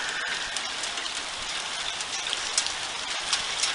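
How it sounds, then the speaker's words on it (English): Hail falling outside on a late-April day over a garden, a steady dense patter of small ice pellets with sharper clicks scattered through the hiss. "it's April 27th and it's hailing"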